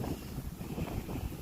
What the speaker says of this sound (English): Honestly, the wind is causing me some major frustration.